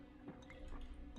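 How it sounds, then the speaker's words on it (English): Water drips in a dingy room in the video game Anachronox, a few soft, faint drops spread irregularly over a quiet background hum. "you can hear the drip drip and all that"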